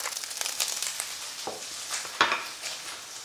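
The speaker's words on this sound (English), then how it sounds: "Now I want to cook these until they are just starting to go tender." Garlic scapes and bacon cook in a pan, giving crackling sizzles with a few scraping stirs and clinks of a utensil against the pan; close and moderately loud, with no voices.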